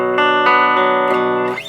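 Electric guitar driven through an MXR Classic 108 Mini fuzz pedal, loud sustained fuzzy chords changing about every few tenths of a second, with a final strum that fades out.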